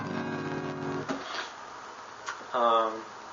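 An acoustic guitar tuned a half step down, its low E string dropped to D sharp and A to G sharp, rings for about a second before being muted; a fresh strum sounds near the end.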